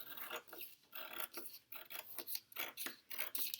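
Scissors snip through paper being cut for Kente cloth weaving, a close, steady run of short crisp cuts with brief pauses between them, and no talking.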